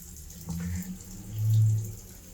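Water drains from a plumbing fitting, a soft gurgling flow with a brief splash and then a louder, low swell of running water close by.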